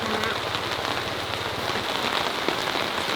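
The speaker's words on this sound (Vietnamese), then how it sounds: "May quá trời vừa bây giờ nó bắt đầu mưa con ạ." Rain beginning to fall on a farm beside a wooden pigeon coop, a steady dense hiss of drops hitting surfaces at close range, with no voices.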